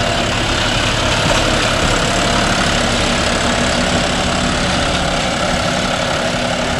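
A John Deere 5405 4WD tractor engine idles close by with a steady, dense low rumble and chugging throb that holds constant throughout.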